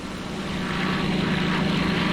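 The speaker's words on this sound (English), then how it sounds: "This is a British airplane" British warplane passing overhead in the submarine game Silent Hunter 3, a loud, steady propeller engine drone that swells slightly and stays constant throughout, with no voices.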